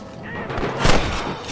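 Gunshots ring out in Red Dead Redemption, a loud, booming burst of gunfire with a short echoing tail over a noisy game backdrop.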